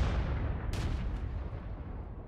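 An artillery gun fires once in World of Tanks, a sharp, loud blast that rolls off into a fading rumble.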